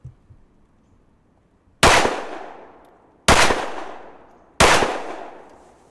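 Three sharp, loud handgun shots from a Smith & Wesson M&P 2.0 Carry Comp at an outdoor range, spaced about a second and a half apart, each cracking and then ringing out in a fading echo.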